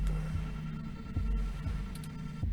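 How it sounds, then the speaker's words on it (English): Steady in-game heartbeat effect from 2064: Read Only Memories, a low throbbing double pulse repeating several times over a constant hum, with no talk. "Your heartbeat is like sonar to me."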